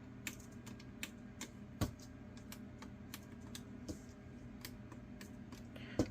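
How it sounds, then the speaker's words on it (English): Buttons on a Nintendo Wii console being pressed, giving a run of small, sharp feedback clicks at an uneven rhythm, quiet and close, with a slightly louder click near the middle and another at the end. "All those buttons should make a feedback click."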